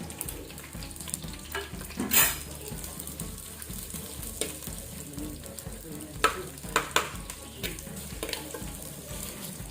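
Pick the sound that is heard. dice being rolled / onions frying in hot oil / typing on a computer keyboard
onions frying in hot oil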